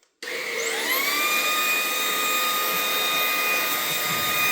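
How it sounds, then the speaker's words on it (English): A household vacuum cleaner switches on abruptly and runs steadily, its motor whine rising to a high, constant pitch over a loud, rushing airflow, used to suck up a scorpion in a room; no one speaks. "Pearl ran to attack the vacuum."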